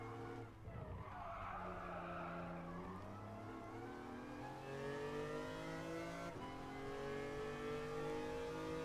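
Engine drones continuously as a car drifts in Gran Turismo Sport, sustained tire squeal with the revs rising and shifting, loud and steady throughout with no voices.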